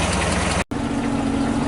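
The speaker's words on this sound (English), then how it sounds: "running about 700 RPM idle, and a little noisier than we would be with the engine cover on" The inboard engine of an 18 ft Thompson runabout idles at about 700 RPM on the Muskoka River with its engine cover off, a loud, steady low rumble close by, cut by a brief dropout partway through.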